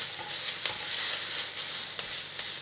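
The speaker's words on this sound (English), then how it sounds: "this will probably be our last time to toss these vegetables" Vegetables sizzle and crackle steadily in a hot frying pan as they are tossed, a dense continuous hiss with a few sharp scrapes and clatters, close and with no voices.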